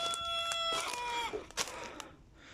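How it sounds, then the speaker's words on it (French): A rooster crows out in the open, its harmonic call rising and then breaking off within a couple of seconds, with rustling and other faint farmyard sounds around it. "C'est bien Coq, tu chantes pour la première fois"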